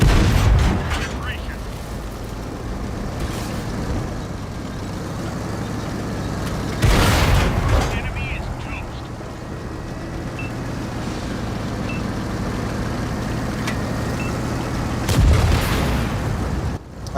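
Tank cannon fire in an Xbox tank battle game, heavy booming shots roughly every eight seconds over a constant engine rumble, with voices talking throughout.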